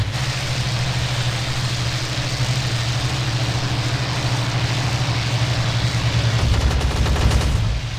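Continuous aircraft machine-gun fire in the IL-2 1946 flight game during an F-82 Twin Mustang versus Bf109Z dogfight. A dense, steady stream of rattling shots plays over droning engines for several seconds, with no one speaking.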